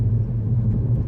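A Mercedes-Benz CLA 45 AMG with a quad tip exhaust gives off a deep, steady low rumble, close and fairly loud, holding even for a second without any talk.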